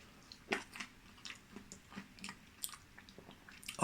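Someone chews air-fried chips cooked in a Tefal Easy Fry Precision digital air fryer, with soft, irregular crunches close to the mic and a louder burst at the end, no talking.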